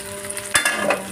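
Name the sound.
dried fish chutney frying in a pan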